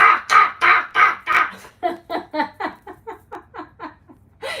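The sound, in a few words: person imitating a raven's caw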